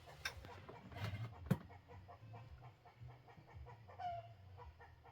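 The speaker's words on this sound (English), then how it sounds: "Oh, chicken just laid an egg." A hen clucking after laying an egg, faint and distant, a few scattered clucks and one brief squawk over a quiet, hushed room.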